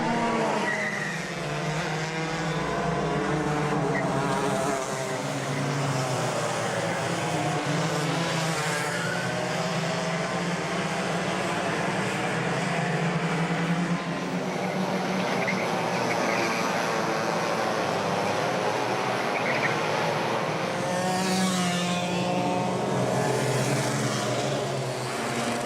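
Heavyweight club karts race at Rye House circuit in a championship sprint final, engines buzzing and whining loudly as the pack passes, with pitch sweeps rising and falling as karts come and go.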